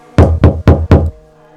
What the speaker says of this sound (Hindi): खुद जाकर दरवाजा खटखटाया